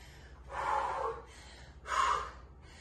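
Two deep, forceful breaths during a lower-body strength workout, one long inhale-exhale followed by a shorter one after a pause, close and breathy.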